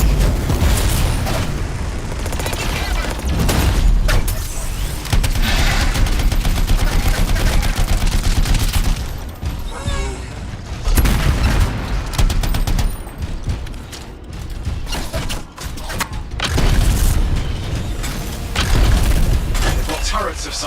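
Turret gunfire and explosions boom through a busy Anthem combat scene, dense and loud bursts of shots and blasts running nearly continuously with brief lulls, while a voice talks over the action.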